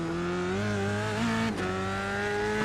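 An F3 single-seater race car in iRacing at Oran Park Raceway running on cold tyres, its engine a steady, loud, sustained drone with a slight pitch rise and a brief dip partway through.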